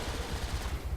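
Rapid gunfire from a weapon in Transformers: War for Cybertron, a dense run of repeated low thudding bursts with a steady rhythm for about a second, moderately loud and without speech.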